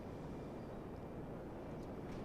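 A jet aircraft engine in the video game GTA 5 gives a steady, muffled broadband roar that holds constant throughout, with no voices over it.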